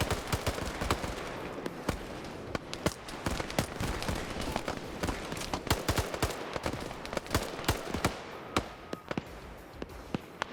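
Dense, rapid gunfire from a large military video game operation set in a Congo campaign, with overlapping near and distant rifle bursts and single shots crackling continuously and loudly throughout.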